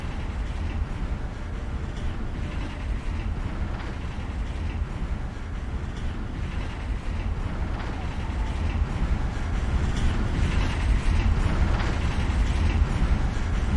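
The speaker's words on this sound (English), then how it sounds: "It's a long elevator ride." Long elevator ride in the video game Deus Ex: Human Revolution, a steady low rumbling hum with faint rattling that grows slightly louder toward the end, continuous and close.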